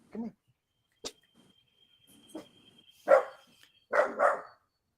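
A pet dog barking indoors in a few short, loud bursts spread across the moment, with gaps of quiet between the barks.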